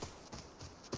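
Footsteps in the Arena Breakout shooter, a few crisp treads landing in a short uneven rhythm, fairly close and moderately loud, with no voices over them.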